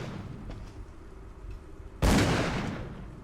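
A single loud gunshot bursts out in Call of Cthulhu: Dark Corners of the Earth after a stretch of low, murky ambience, its blast trailing off over about a second.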